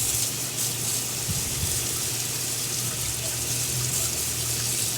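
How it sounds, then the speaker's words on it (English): Hot water gushes steadily from a kitchen tap into a sink while tongs are rinsed, a loud continuous close hiss with faint clinks underneath. "Wow, the power of hot water is impressive."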